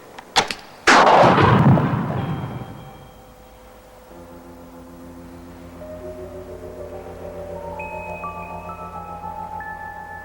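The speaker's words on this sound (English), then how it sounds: "The gun is fired." A light gas gun fires at a prepared target in an evacuated lab room: a couple of sharp clicks, then one loud blast that decays into a fading rumble, followed by quiet rising electronic tones.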